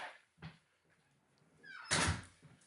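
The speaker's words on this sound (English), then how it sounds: "let me shut the door there." A door swings and shuts indoors, starting with a faint creak, then a soft knock and a louder thud as it closes.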